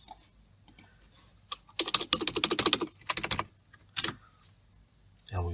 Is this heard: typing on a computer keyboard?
yes